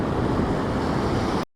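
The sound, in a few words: ocean waves crashing on the shore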